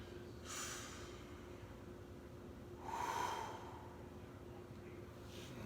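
Slow, deep breaths after stretching exercise: a few long, audible inhales and exhales spaced seconds apart, close by and soft, over a quiet low hum.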